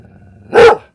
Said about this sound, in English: my dog's barking at the thunder and lightning